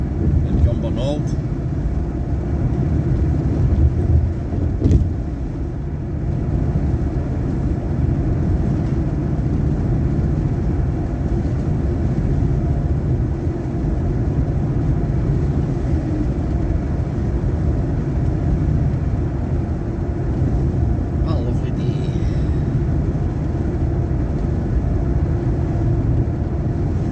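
Ford Mustang 5.0 with the Coyote V8 driving on the road to Edinburgh, a steady low engine drone and road rumble held evenly throughout, running smooth and continuous with no sharp revs.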